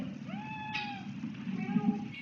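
A cat named Meow Meow gives a drawn-out, rising-and-falling meow followed by a softer second one, close by over light room noise and faint murmuring.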